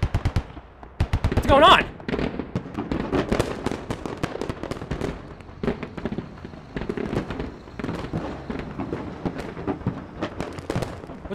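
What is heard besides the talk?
gunfire in the video game Squad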